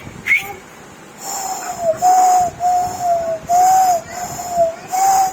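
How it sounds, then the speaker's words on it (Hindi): Someone whistles, a series of short, loud, steady whistle blasts repeating in a rough rhythm, each held for about half a second, with faint background noise between them. "सीटी बजाओ, बजाओ सीटी।"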